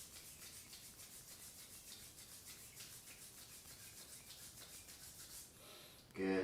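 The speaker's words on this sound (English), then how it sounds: "and rub the hands together" Hands rub together during a yoga class, a soft, continuous dry swishing that stays faint and steady for several seconds before ending with a brief louder sound.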